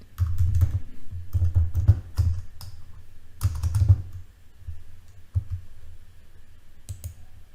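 Fast typing on a computer keyboard, close and crisp, in several quick bursts of key clicks separated by short pauses, ending with a few isolated taps.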